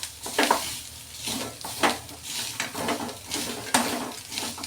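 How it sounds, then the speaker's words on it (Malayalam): Masala for an egg curry fries in a pan under a steady sizzle, broken by repeated scraping stirs and clinks of the utensil against the pan. "നന്നായിട്ടൊന്ന് ഫ്രൈ ചെയ്തെടുക്കുന്നുണ്ട്."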